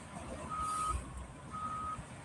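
Fire truck on a residential street giving two evenly spaced reversing beeps over a low idling engine rumble.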